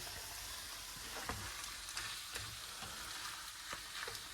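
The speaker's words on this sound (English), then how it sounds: "So we'll just let those onions get translucent and cook down" Onions sizzle and fry in a pan for chili inside a truck camper, a steady close crackle with scattered sharper pops throughout, no voices.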